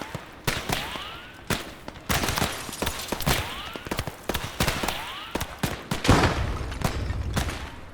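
Gunfire from the World War II game Gates of Hell in Normandy near Isigny: repeated sharp rifle and machine-gun bursts crackle in irregular clusters throughout, loud and close, with whistling rounds and no talk.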